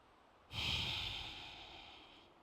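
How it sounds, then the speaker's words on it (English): A single deep breath during a yoga practice, drawn in and then let out slowly through the nose, close and clear against a quiet room, with no talking. "Breathing nice and deep here."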